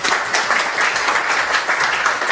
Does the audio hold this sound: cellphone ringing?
no